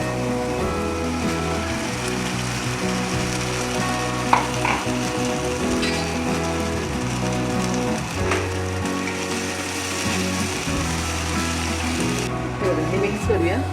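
Potato batter with chili flakes and curry leaves sizzles steadily in a hot pan, a continuous crackling fry with occasional stirring and faint background noise throughout.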